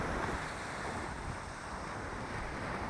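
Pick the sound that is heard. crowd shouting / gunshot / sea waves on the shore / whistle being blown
sea waves on the shore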